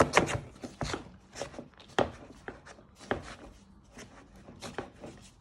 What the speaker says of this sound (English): Then you want to start beating it to make butter icing.